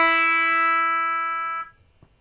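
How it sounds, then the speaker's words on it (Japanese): A single open high E string rings out on an electric guitar with a Floyd Rose locking nut, a clean sustained note with bright overtones that holds steady and then is abruptly muted, followed by faint handling noise. "一弦開放の音ですね。"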